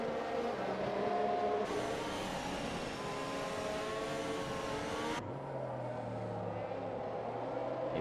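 Formula 1 race cars in the F1 2021 game restarting at Sochi Autodrom for the Russian Grand Prix on medium tyres, a loud continuous engine roar with rising revs and a shift in pitch midway, steady throughout.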